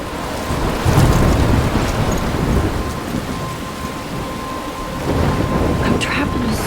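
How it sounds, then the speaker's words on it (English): Heavy rain and rolling thunder in a storm in the Life Is Strange video game, a loud, dense, continuous roar that surges and eases and carries no speech. "I'm trapped in a storm?"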